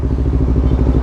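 Honda CBR 250 RR sport motorcycle ridden on the road, its engine a steady close low-pitched drone with a faint rhythmic pulse and no break across the brief moment.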